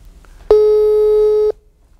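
A telephone ringback tone heard while placing a call, one loud steady electronic tone lasting about a second that starts and stops abruptly, with quiet background on either side.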